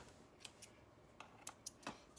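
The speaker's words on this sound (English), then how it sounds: "Snip those threads" Scissors snipping loose sewing threads on a garment waistband, a run of about eight small, sharp, quiet clicks close by at an uneven pace, with no talk.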